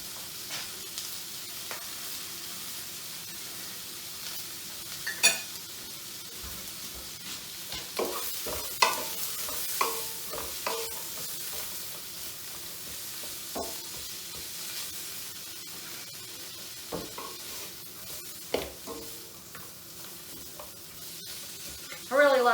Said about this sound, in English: I've got my lamb loin searing over here